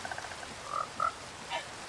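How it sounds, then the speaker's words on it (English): Frogs in the Minecraft modpack FTB Skies 2 give a few brief, soft croaks spaced about a second apart over a quiet background. "The animation of the frogs walking around is quite nice"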